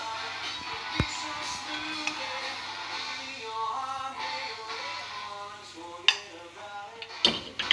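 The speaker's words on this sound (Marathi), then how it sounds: "हांव आतां ते प्लेटीचेर काडटा" Fried pork chops are lifted from a pan onto a plate, with scattered clinks of utensil on cookware and several sharp knocks, close against a steady background hum and faint sizzling.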